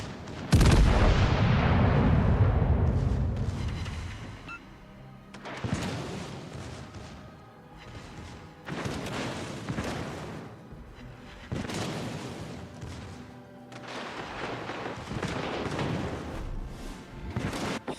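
Naval gunfire in the video game World of Warships, several heavy booming salvos with long rumbling tails that come in waves, loud and fairly close.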